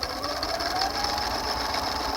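A sewing machine runs steadily, stitching a narrow edge along a fabric tab with a continuous mechanical whir and buzz, close and even throughout with no voices.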